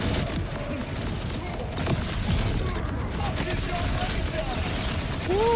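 Gunfire from weapons in the shooter game Borderlands 4, a dense, continuous rattle of shots and booms at steady loudness throughout, with a rising electronic tone near the end.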